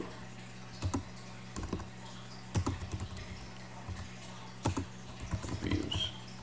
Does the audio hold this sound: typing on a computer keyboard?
yes